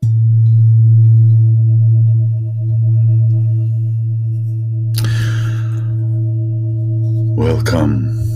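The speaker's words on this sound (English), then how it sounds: "So, this is the opening jingle" Opening jingle of a spoken-word podcast: a loud, steady low electronic tone with a sustained hum, joined partway through by brief brighter chirping flourishes near the end.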